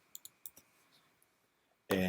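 Sharp close computer mouse clicks, a quick double click followed by another pair, crisp and isolated in a quiet room before a voice starts speaking at the end.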